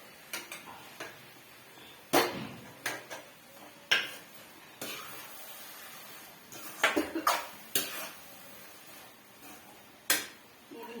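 A spoon clinks and scrapes against a pan as ghee goes in for gajar ka halwa, a string of sharp, close metallic taps and clatters scattered irregularly with quiet gaps between.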